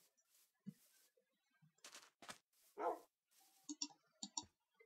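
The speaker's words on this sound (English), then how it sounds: "now I got a pet dog." A dog barks in Minecraft, several short, sharp barks scattered among clicks and other game sounds, fairly faint against a quiet background.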